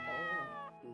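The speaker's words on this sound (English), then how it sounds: "Oh, the cat." Cat in the horror video game Corpse Party giving a single drawn-out meow, close and moderately quiet, with a short trailing sound after it.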